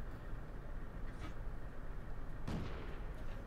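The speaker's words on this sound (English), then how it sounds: "Just blowing away some cover here, anything that's going to interfere with my shots." Tank cannon fire from a T2 Medium Tank in World of Tanks, aimed at cover; a low rumbling engine bed carries a muffled shot around one second and a louder, sharper blast near two and a half seconds.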